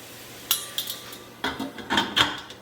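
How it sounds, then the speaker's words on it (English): Metal pot lid clattering as it is set onto a soup pot of potato and leek soup, several sharp clinks and knocks in an uneven sequence, close and fairly loud. "Put my lid on my pot."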